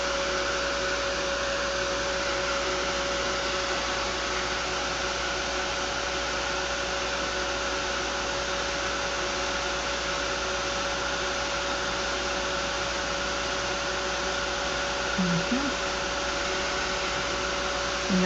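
A blow dryer drying a freshly painted pop art face tile, a loud steady whooshing blow that runs continuously without pause, with a brief faint knock near the end.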